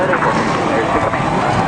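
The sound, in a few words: stock car engines firing up in NASCAR Racing 2003 video game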